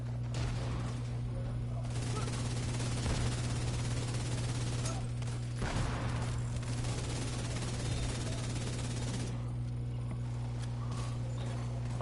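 Rapid gunfire from a firefight in The Division 2, dense bursts of shots running across the whole stretch over a steady hum, loud and continuous with short pauses.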